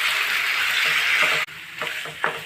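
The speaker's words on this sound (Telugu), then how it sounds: "చికెన్ పాన్లో వేసేస్తాను." Marinated chicken goes into a hot pan with a loud, dense sizzle, which breaks off abruptly for an instant and then comes back with sputtering bursts and pops.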